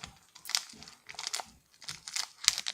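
A Pokémon card sample pack is torn open by hand, with soft close crinkling and tearing of foil wrapper in short irregular bursts, quiet and without talk.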